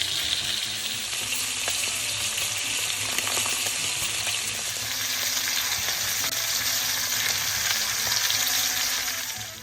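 A leg of lamb being seared in a pan for a slow-cooked seven-hour gigot, turned to brown on all sides, gives a loud, steady sizzle and crackle from start to finish with no talking.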